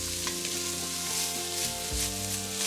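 Bacon and chopped vegetables fry together in a pan for a soup, giving a steady, close crackling sizzle with low kitchen hum and no talking.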